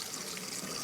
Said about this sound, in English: Then to that, I'm going to add 1 cup of warmish water.